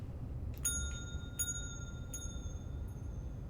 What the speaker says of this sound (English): Ooh, the echo of the bell.